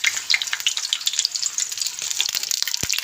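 Egg shami kebabs sizzling in hot oil in a pan, a steady crackling fry with scattered pops and one sharper spatter near the end, heard close and alone.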